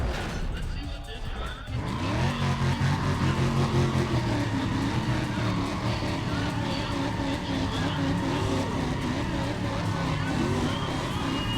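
A Nissan Silvia race car in Need for Speed ProStreet revs loud and steady at the start line, then launches hard with rising, shifting engine tones and possible tire squeal, a voice talking over the engine throughout.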